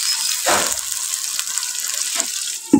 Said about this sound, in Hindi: थोड़ा सा पानी डाल कर ढाँप कर रखूँगा